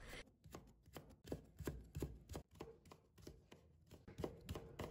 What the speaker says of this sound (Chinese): 再改刀切成细丝，